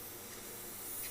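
An airbrush sprays black paint thinned one to ten, a continuous soft broadband hiss of compressed air and mist, steady and close with no talking.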